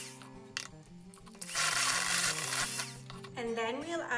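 An electric mixer whirs loudly for a couple of seconds as eggs are beaten one at a time into whisked butter and sugar for a plum frangipane, with voices in the background before and after.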